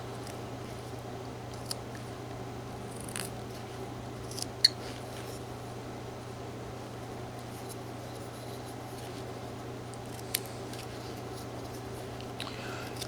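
Whittling knife cutting wood while carving a horse, faint sparse scraping snicks and a few sharper clicks scattered over a quiet steady hum, with no talking.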